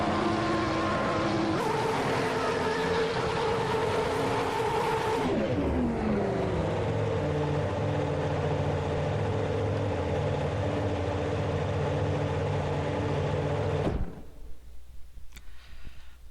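A 1996 Ferrari F310 Formula One car with a V10 engine in Assetto Corsa screams at high revs, drops through downshifts into a steady loud drone, then cuts off abruptly into near silence.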